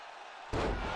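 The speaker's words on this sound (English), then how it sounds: "And slamming Gargano down" A wrestler is slammed down hard in the WWE 2K23 video game, a single loud heavy impact that hits abruptly halfway through and rings on with crowd-like noise after a quieter lead-in.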